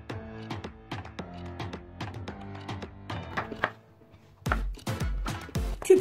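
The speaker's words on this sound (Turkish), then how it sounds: "Altı tane orta boy patates de küçük küçük doğrayalım." A knife chops six medium potatoes into small cubes on a board, giving a quick run of evenly spaced light taps, then a brief pause and a few heavier, duller thunks, all close and fairly quiet.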